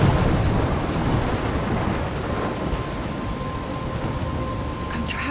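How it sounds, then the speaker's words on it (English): A thunderstorm with rain in Life is Strange: loud, dense rain hiss and a low rolling rumble, strongest at the start and easing slightly, with a faint tone running through. "I'm trapped in a storm?"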